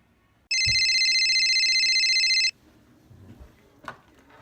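Office front-desk telephone ringing once, a loud electronic ring lasting about two seconds, followed by quiet room noise and a faint click.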